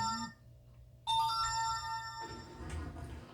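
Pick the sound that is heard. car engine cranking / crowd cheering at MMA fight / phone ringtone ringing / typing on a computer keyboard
phone ringtone ringing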